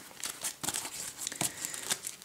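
Cards from the Legendary Encounters deck-building game are gathered and discarded: a run of quick, crisp shuffling and sliding rustles in an irregular rhythm, close and fairly loud, with no talk.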